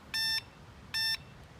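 An ebike horn gives two short, identical electronic beeps about a second apart, bright and steady, with quiet background between them.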